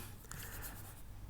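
Chalk or marker scratching on a board in a solid-state physics lecture on magnetic properties, a brief continuous rubbing stroke against a steady room hiss.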